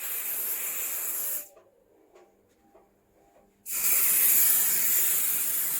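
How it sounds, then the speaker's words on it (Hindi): Room spray is sprayed inside a wardrobe, near the shoe section. Two long, close hissing bursts are separated by a short quiet pause, and the second burst is slightly louder. "this is called room spray"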